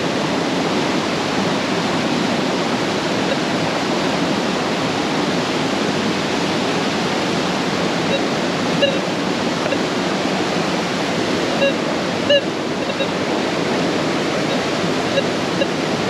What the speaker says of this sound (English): maybe I should show you the beautiful river